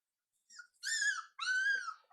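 Labrador Retriever puppies whimpering at bath time, two high, drawn-out whining cries in close succession, close and clear with no talk.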